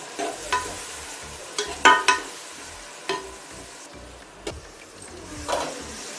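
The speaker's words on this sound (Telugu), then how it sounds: "ఇందులో టమాటా ముక్కలు, పచ్చిమిర్చి ముక్కలు వేసి ఇవి కూడా కొంచెం మగ్గనిద్దాం." Tomato and green chilli pieces fry in a pan over already-fried onions for a leafy amaranth biryani, giving a soft steady sizzle broken by several sharp stirring clinks and scrapes, with no talking.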